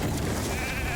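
A short sheep bleat rings out once in a mobile arena battle game when a character is turned into a sheep, the wavering cry standing out over busy game noise.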